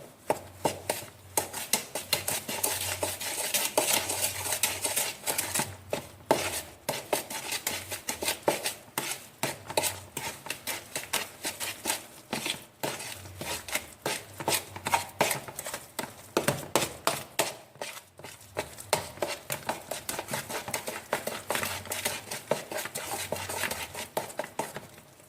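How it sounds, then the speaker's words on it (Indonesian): Utensil scraping and clinking against a bowl while stirring batter with powdered vanilla for coconut kue lumpur cakes, a steady, close rhythm of quick metallic taps and scrapes running throughout with no talk. "vanili bubuk, dan akan saya aduk dulu"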